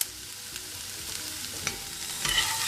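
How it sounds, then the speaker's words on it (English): Butter melting in a frying pan for a vegetable cheese omelet, giving a soft, steady sizzle and hiss with a few faint clinks and scrapes, no voice. "I'm going to turn on the heat now and allow the butter to melt"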